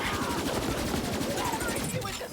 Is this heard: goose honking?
no